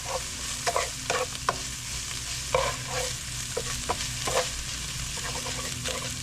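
Sesame noodles and ground beef are stirred in a hot pan, a steady sizzle and frying hiss punctuated by scraping, clacking utensil strokes at close range.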